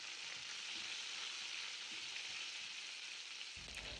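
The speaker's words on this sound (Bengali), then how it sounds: "একটু হলুদ আর লবণ দিয়ে চিংড়ি মাছটা লাল লাল করে ভেজে নেব" Shrimp frying in a pan with turmeric and salt, with green chilli and ginger nearby, for a potato and ridge gourd curry: a continuous even hiss of hot oil, fairly soft, cutting off abruptly near the end.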